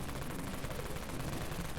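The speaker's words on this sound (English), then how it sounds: "deafening sounds of the Wraith Cannon shooting at like 15 shots per second" The Wraith Cannon from the game Dead Frontier fires in a rapid, dense stream of shots at around fifteen per second, a continuous rattling burst that is fairly quiet in level.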